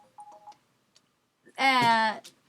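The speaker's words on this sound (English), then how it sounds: "it's ringing on my cell phone" A cell phone ringtone sounds once, a brief bright melodic ring after a few soft electronic beeps, close and clear in a quiet room.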